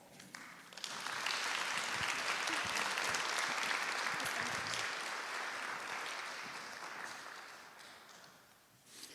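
Sustained audience applause welcoming a keynote speaker at a Houston community event, a dense steady wash of clapping from a large crowd that swells quickly, holds for several seconds and then tapers off.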